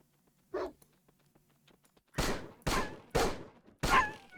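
Dogs in an indie video game, a single sharp bark followed by a tight run of four loud, evenly spaced barks or attack sounds close up.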